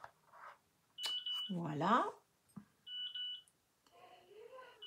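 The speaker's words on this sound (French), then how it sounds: "C'est ma petite fille qui téléphone à sa maman par la caméra" Electronic beeps from a video call placed on a camera, a few short clear tones in quick succession mixed with a nearby voice talking in bursts.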